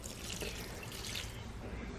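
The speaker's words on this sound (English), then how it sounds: "Next, I'm going to pour the half a cup of white wine." Half a cup of white wine poured into a crock-pot, a steady close liquid splash and trickle lasting about two seconds with no talking.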